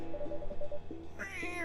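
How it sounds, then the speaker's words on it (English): A local cat meows in the video game Coffee Talk. A short, close meow rises clearly over quiet background music, with no talking. "If I'm not mistaken, this is a local cat."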